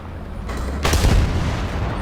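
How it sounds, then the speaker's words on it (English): A single loud, close cannon blast from an American M55 self-propelled howitzer in War Thunder, a sudden deep boom that rings out and decays into a low rumble after a quieter lead-in. "I squeezed the trigger just to see, and evidently it was loaded"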